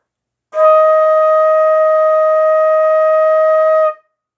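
A single sustained E-flat long tone on a flute, played for a beginner band lesson, rises cleanly and holds steady and bright for about three and a half seconds before stopping, alone in silence.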